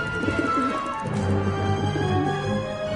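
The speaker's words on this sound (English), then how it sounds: "How am I supposed to get rid of that pigeon?" A pigeon coos in the video game Syberia, a low soft repeated cooing that stays steady and fairly close across the clip, with no voices present.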